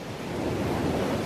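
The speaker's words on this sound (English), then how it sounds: "This is the beach." Ocean surf at a beach in Peru rolls in a continuous loud wash of breaking waves, with gusty wind buffeting the microphone throughout.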